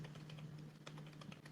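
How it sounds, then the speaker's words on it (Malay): Keys on a computer keyboard pressed in quick, irregular taps, likely arrow keys used to move between spreadsheet cells, close and fairly quiet over a steady low hum, no talking. "Kalau I nak lompat, I nak lompat ke kotak yang sebelah, I tekan je anak panah pada keyboard I"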